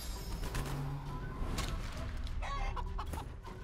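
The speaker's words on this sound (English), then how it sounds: "And I'm going to turn the turtle into a chicken." Clucking chicken sound effects from the video game Divinity: Original Sin 2 after a turtle is turned into a chicken, heard over game music and other effects, with short clucks and squawks scattered through the stretch.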